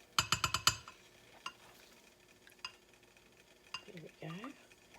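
A utensil scrapes homemade body butter out of a container, starting with a quick series of sharp clinks and knocks, then sparse light scrapes with a soft voice near the end.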